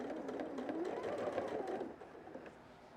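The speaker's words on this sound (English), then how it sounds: "I'm going to be sewing at this speed for a while now" Sewing machine stitching a quilt, running at a steady, even speed as a continuous mechanical whir with faint rhythmic ticking, fairly close and moderately quiet, easing off slightly near the end.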